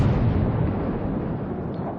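A salvo from the battleship Roma's main guns in World of Warships: one deep, loud boom that starts at full force and rolls away into a long fading rumble.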